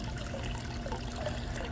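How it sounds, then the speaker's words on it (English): Bleach pours steadily into a bucket of water for pool treatment, a continuous trickling, splashing flow heard close and unbroken throughout. "I'm just gonna add some bleach to this bucket of water"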